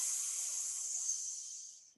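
A long steady hiss of breath pushed out through the teeth during yoga, close and soft, holding evenly for about two seconds before fading.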